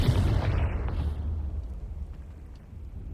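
A fiery explosive spell blasts in the Hogwarts Legacy video game, with a loud booming burst at the start that rumbles and fades away over a few seconds.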